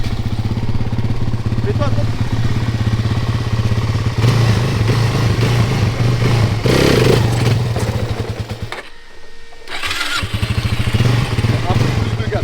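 A quad bike engine at close range, idling roughly and then revving harder in surges, dropping off briefly near the end before picking up again, with someone talking over it.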